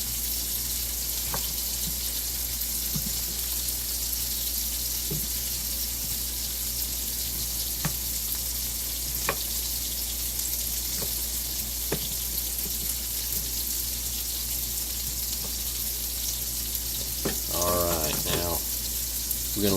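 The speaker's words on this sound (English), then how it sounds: "our sausage is starting to slow down in the cooking process" Sausage sizzles and fries in a pan for shakshuka, a steady close crackling hiss with occasional utensil clinks, and a person talks briefly near the end.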